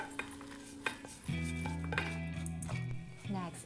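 Rice mixture scraped with a utensil into a rice cooker pot for homemade chicken rice, with clinks of metal against the pot and soft stirring scrapes, close by over a steady low hum.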